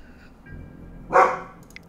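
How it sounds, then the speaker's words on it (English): A single dog barks once, a short, fairly close bark standing out from an otherwise quiet background. "she's gonna bark a whole bunch today, isn't she?"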